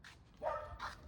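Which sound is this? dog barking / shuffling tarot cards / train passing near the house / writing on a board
dog barking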